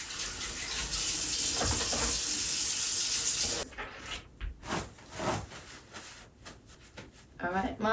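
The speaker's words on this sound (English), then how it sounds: "so let me wash my hands." A tap runs steadily while hands are washed beneath it, a bright rushing stream for several seconds, then stopping and giving way to intermittent splashes, rubbing and water movement close by.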